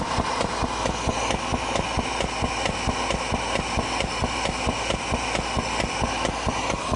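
An Anion Goliath vacuum recovery pump runs loud and steady close by, a dense mechanical drone with a fast regular knocking pulse throughout and no voices.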